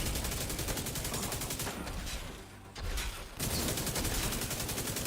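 Sustained rapid gunfire in The Division 2, a dense automatic barrage with a brief lull in the middle before it resumes at full intensity.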